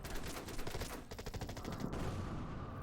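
Rapid bursts of artillery fire in the World War II strategy game Order of Battle, a dense rattling volley of repeated blasts in a quick rhythm, with no talking over it.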